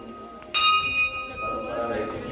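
A Shiva temple bell at a hill-fort shrine is struck once, giving a sharp bright clang with a long ringing tail that fades slowly over low background noise.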